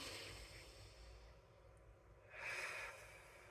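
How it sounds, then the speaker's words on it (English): A woman draws one deep breath, a single breathy inhale rising out of a faint room hiss partway through and ending after about half a second, close and unaccompanied by speech. "I just want to take a deep breath with y'all real quick"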